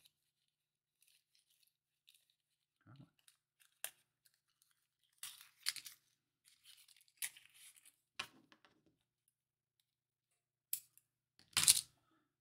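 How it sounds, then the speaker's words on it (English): Double-sided tape peeled from its backing and pressed down onto a folded part of a DeAgostini Moomin model, heard as sparse, quiet crinkles and short tearing rips, with a louder sharp peel near the end. "I'm going to stick a piece of double-sided tape in there to hold it down."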